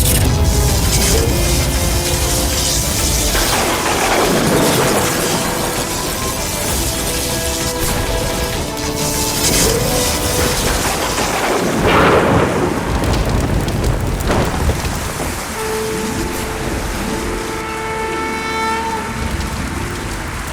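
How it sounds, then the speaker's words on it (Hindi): A loud thunderstorm, with heavy rain pouring continuously and thunder rumbling and cracking in repeated waves, mixed with dramatic music. "इस ऋतु में वर्षा?"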